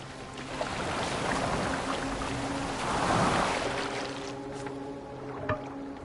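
A boat moves across open water in Assassin's Creed Valhalla, with a steady wash of water and wind and a low hum running throughout, a brief swell near the middle and a small knock toward the end.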